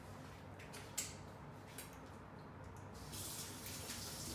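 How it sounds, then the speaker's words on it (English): A tap runs quietly while fingers are rinsed during baking, a soft steady trickle with a few small clicks and knocks, the flow growing somewhat fuller toward the end. "So let me wash my fingers."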